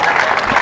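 A crowd at a men's singles open final of a national pickleball championship claps loudly and densely for the whole brief moment, with no talk over it.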